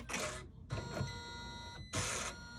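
Embroidery machine trimming its threads with the thread cutter, three short bursts of mechanical whirring and clicking separated by brief pauses, close and fairly loud.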